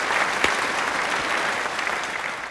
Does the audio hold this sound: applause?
yes